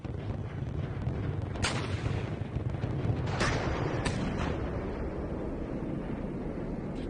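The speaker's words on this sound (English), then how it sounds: "Your recon scouts are firing RPGs" Recon scouts fire RPGs in Steel Beasts Pro: three sharp launch blasts ring out over a steady, heavy rumble of battlefield noise.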